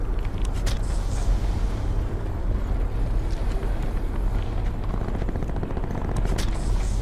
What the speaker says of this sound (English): Oh, they're getting on the chopper.